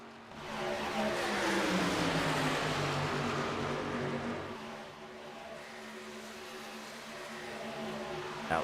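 Race trucks in the Outlaw Birthday Bash 250 roar past on an oval track, a loud engine drone swelling then dropping in pitch as the pack passes, followed by a steadier fainter hum of more trucks.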